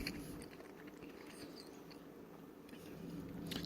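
Someone bites and chews crunchy fast-food chicken nuggets from Wendy's and Jack in the Box up close, producing faint, continuous crunching and mouth sounds.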